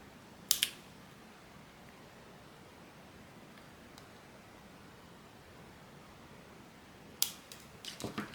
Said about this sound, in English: Last step is to cut our wicks.